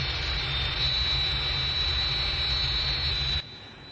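A target aircraft's jet engine roars steadily and close in a 1965 Thunderbirds episode, a loud continuous whine with deep rumble that cuts off abruptly near the end.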